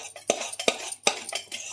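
Spoon scraping and stirring through jaggery syrup with a pinch of baking soda in a pan, four sharp clinks of utensil against metal spaced unevenly, with a soft low hum underneath.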